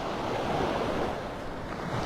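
Ocean surf rolls in on Vanderbilt Beach in North Naples, Florida, with an incoming tide, a steady broadband wash of waves mixed with wind buffeting the microphone, continuous and fairly loud.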